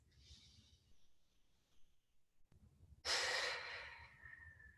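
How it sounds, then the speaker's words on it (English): A person doing a floor stretching exercise breathes slowly and deeply, with a soft exhale, a pause, then a louder, airy breath that tails off, close and with no talk. "Two more breaths."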